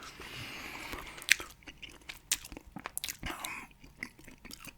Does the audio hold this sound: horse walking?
no